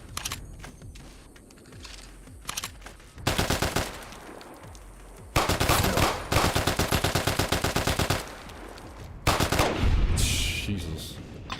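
Gunfire with heavy recoil in Fallout D.U.S.T., a hardcore survival mod, comes as several loud rapid-fire automatic bursts lasting a second or two each, separated by quieter clicks and handling noises.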